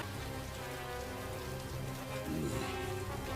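Steady, dense rain pours continuously in an anime scene, an even wash of falling drops without pause, with a faint tonal swell in the final second.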